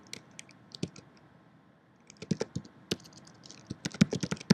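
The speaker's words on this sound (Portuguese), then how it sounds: "Se eu já tiver o nome do plugin, eu posso digitá-lo aqui." Rapid, irregular key clicks from a computer keyboard as a plugin name is typed into a WordPress search field, close and fairly quiet, in short bursts with a brief pause midway and a denser flurry at the end.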